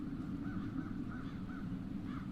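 Crows cawing in the fantasy video game The Dark Eye, a steady series of harsh, rhythmic caws over a low droning ambience, faint and somewhat distant, with no talk.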